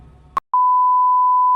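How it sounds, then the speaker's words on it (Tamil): A bleep in playing film dialogue: a brief tone cuts the voice off, then after a short gap a loud, steady, unbroken pure tone carries on alone to the end. "அதில் ஒரு பீப் வந்தது தெரியுமா?"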